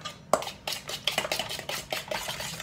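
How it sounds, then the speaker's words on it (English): Eggs and sugar being mixed in a bowl for a lemon yogurt cake, with a steady run of scraping, tapping strokes and light utensil clinks against the bowl, close and fairly quiet, with no talking. "Mixing that up."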